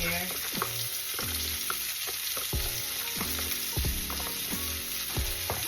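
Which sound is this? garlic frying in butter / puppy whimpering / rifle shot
garlic frying in butter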